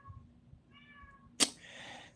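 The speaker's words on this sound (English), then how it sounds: "Oh, cats outside the window here." A cat meows just outside a window, a thin drawn-out call followed by a sharp click and a second louder meow, faint against a quiet indoor room.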